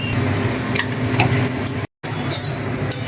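Fish fries in hot oil in a village kitchen, giving a loud, continuous, close sizzling hiss with faint clinks, cut by a brief silent gap partway through.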